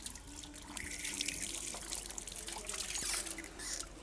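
Water poured over the left foot during wudu, a soft continuous trickle and splash running steadily for several seconds at low volume, close by, with no talking.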